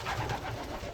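Pigeons in a loft coo softly with low, rolling throaty calls, a close, murmuring cluster of several birds over about a second.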